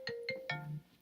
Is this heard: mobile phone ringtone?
yes